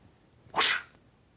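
A voice imitates a fart with a single short, raspy burst of sound, loud and close, followed by a faint trailing puff in a quiet room.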